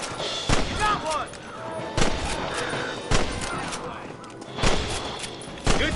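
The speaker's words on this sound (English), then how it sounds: "Good shooting, Marston" Gunfire in the Western game Red Dead Redemption: loud, sharp shots at roughly one-second intervals, some echoing, mixed with background voices and game sounds.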